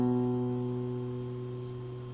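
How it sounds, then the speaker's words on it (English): A single guitar note on the fifth string at the second fret, plucked once and left ringing as it slowly decays, quiet and alone. "put your first finger on the 5th string, 2nd fret. It should sound like this."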